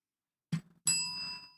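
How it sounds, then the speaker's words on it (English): A small desk bell dinged once in a podcast booth: a soft thump, then a bright single ring that sustains and fades over about half a second, close and alone. "I'm dinging the bell."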